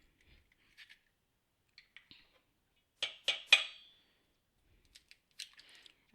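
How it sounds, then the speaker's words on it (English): Eggs are cracked into a bowl for brownies: a few faint taps, then three sharp, close cracks in quick succession followed by scattered small clicks in an otherwise quiet kitchen. "we're going to crack the eggs in"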